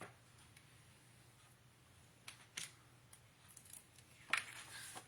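Paper for a scrapbooking album being cut in a quiet room, with a few faint, isolated snips and crisp clicks spread across the clip, the sharpest near the end.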